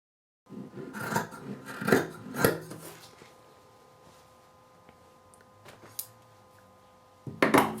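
Scissors cutting knit fabric pieces for a cloth diaper, several close snipping and crunching strokes in a quiet room, a few soft clicks and taps between them, and a final flurry of cuts at the end.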